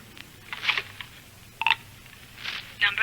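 Touch-tone dialing on a telephone in a phone booth: several short bright beeps in irregular succession, moderately loud over a low steady background hum, with no talking.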